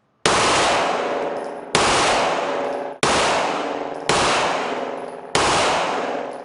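A handgun fitted with a conversion switch fires five loud, full-auto bursts one after another. Each burst is a dense, rapid rattle lasting over a second, with a sharp metallic attack and no voices between them.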